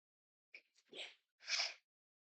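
A person sneezes, a short catch of breath followed by two quick, faint, breathy bursts, the second fuller, in an otherwise silent room.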